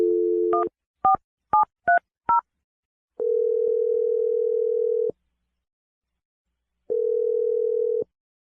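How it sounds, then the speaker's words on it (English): A telephone number is punched in as five quick two-tone keypad beeps, followed by two long steady ringback tones separated by silence, clear and close with no talking. "I'm going to dial her number right now."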